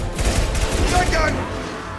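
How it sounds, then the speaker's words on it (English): Shotgun fire in Mass Effect 2 on Insanity difficulty: a booming blast with low rumble and a short echoing tail, amid battle noise. "Shotgun."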